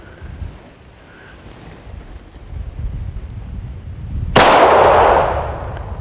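A single loud Hi-Point C9 pistol shot cracks out at an outdoor range, a sharp broadband burst that decays over about a second, with wind buffeting the microphone beforehand.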